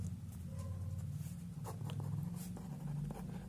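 Pen or marker scratching across a writing surface during a physics lesson, a brief run of soft, close scribbling strokes over a low background hum.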